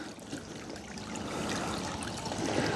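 An RC Range Rover Classic FCX10 in Camel Trophy style crawls through a water crossing, with a soft, continuous splashing and trickling that swells slightly toward the end, faint and close, without talking.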